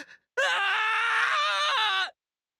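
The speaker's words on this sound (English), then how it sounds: "He screamed painfully" A man's drawn-out scream of pain from the video game Togainu no Chi, one loud sustained strained cry lasting nearly two seconds, heard alone.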